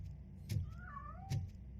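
A cat meows in Robocop Rogue City, a single drawn-out mewing cry between two soft thuds, fairly close over a low background hum.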